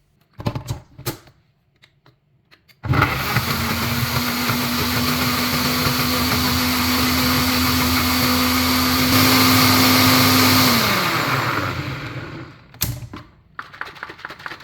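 A blender whirs loud and steady for about eight seconds, mixing vegan, sugar-free chocolate muffin batter with flax seeds, then winds down, with brief handling knocks before and after.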